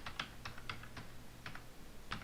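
Someone types on a computer keyboard. A handful of quick, light key taps come in an uneven rhythm over a low steady hum, soft and close.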